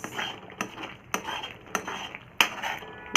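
A utensil scrapes and knocks against a pan while thickening malai is stirred down into khoya, giving a series of sharp clacks at irregular intervals over a low sizzling bed, with no talk.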